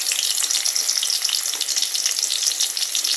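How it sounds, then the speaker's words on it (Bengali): Chopped garlic and onion fry in hot oil with a steady, bright, crackling sizzle, close and continuous, with no talking. "এটাকে ভালো করে আমি একটু ব্রাউন কালার করে ভেজে নেব"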